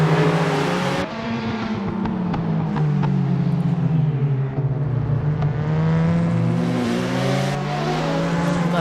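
Several race cars roar off together at the start of a round at Symmons Plains in a racing game, loud and close, engines climbing through rising revs with shifts and a brief tire squeal, no talking.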